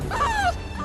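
Iris, a dog who started out as a guide dog puppy, gives a single brief, high-pitched whining yip over low background noise, fairly close.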